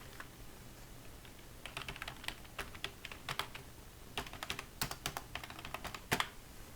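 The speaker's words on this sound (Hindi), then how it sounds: "मैं पासवर्ड एंटर कर देता हूँ।" A password is typed on a computer keyboard, quiet uneven runs of key clicks that grow busier toward the end.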